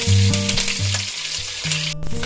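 Crushed ginger and garlic fry with shallots in hot coconut oil for kappa biryani, giving a loud, continuous sizzle with a few low clunks and stirring knocks, close up and with no voices.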